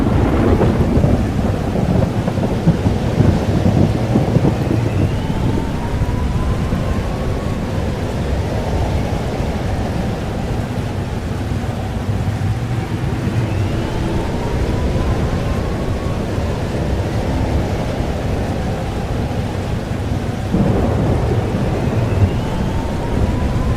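Thunderstorm in the video game Life is Strange: Double Exposure, with steady heavy rain and deep rolling thunder throughout, loud and continuous.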